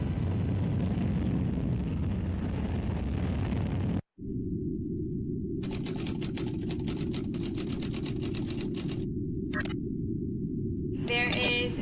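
A rocket lifts off with a heavy, continuous roaring rumble that breaks off briefly and then resumes, with crackling noise and a faint voice over the top.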